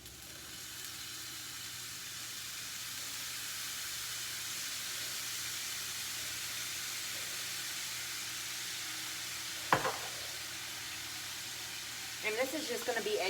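Egg fried rice with garlic and low-sodium soy sauce sizzling steadily in a pan, a broad continuous hiss close up with a brief clatter near the end.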